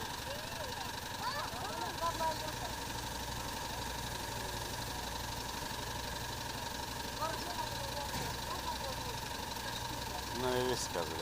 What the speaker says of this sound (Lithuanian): Palauk, einu užgesinti traktorių.